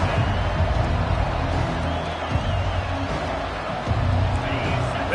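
A football stadium crowd roars and cheers in a broad, continuous wash of noise during a game, with a commentator talking over it.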